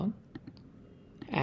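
Mouse clicks on a button in a web dashboard, a few sharp, quiet clicks spaced apart, with brief rustling at the end.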